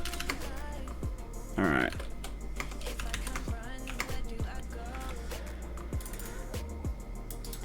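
Rapid clicking of computer keyboard keys, close and steady with irregular bursts, while a person speaks briefly over it.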